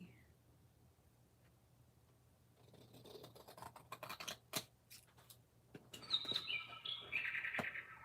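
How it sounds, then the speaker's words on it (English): A bird chirps nearby in a room where scrap cards are shuffled. Bright, high tweets come in short bursts toward the end over light rustling and tapping. "Bird, leave me alone. Leave me alone, bird."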